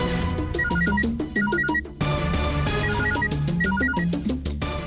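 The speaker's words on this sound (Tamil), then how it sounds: "உன் செல்போன் அடிச்சிட்டு இருக்கு" A cellphone rings with a repeating electronic melody, loud and close, looping twice with no voices over it.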